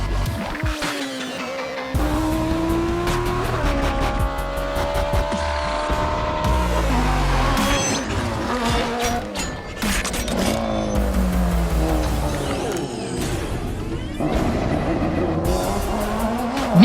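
Race car on a hill climb course, engine note rising and falling through gear changes with sharp shifts and crackles, loud and close throughout, continuous with brief dips between shifts.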